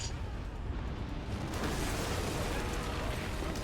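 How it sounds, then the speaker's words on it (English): A loud, sustained roaring blast from the video game Metal Gear Solid 2: Sons of Liberty, set on a ship in the lower New York harbor, fills the whole moment with dense broadband rumble that swells partway through and holds steady without letting up. "Kaboom."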